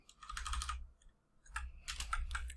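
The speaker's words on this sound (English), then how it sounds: "you didn't actually have to watch me struggle through typing these out" Fingers type on a computer keyboard in two quick bursts of clustered key clicks, with a short pause between them, close and fairly quiet.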